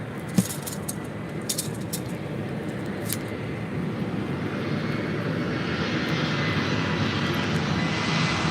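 Aircraft engines power up at LAX, a steady broad roar that swells gradually over the whole stretch, with a few faint metallic clinks early on and no talk.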